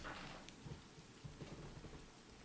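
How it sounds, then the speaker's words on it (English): Steady rain hiss on the Total War: Warhammer campaign map, a continuous soft wash of falling drops with faint low gusts of whistling wind underneath, quiet and ambient with no voices. "it's just like the sound of rain and whistling winds here"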